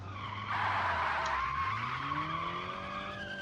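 A car in a racing video game drifts with a long, loud tire skid, screeching steadily over a falling then rising engine tone, with no voices.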